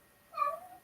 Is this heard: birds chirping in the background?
no